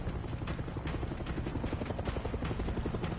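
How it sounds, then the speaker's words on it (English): A helicopter in the video game Far Cry 6 gives a steady, fast rotor thump with a deep low drone, continuous and fairly close throughout, with no voices over it. "And we have another Stewart helicopter again."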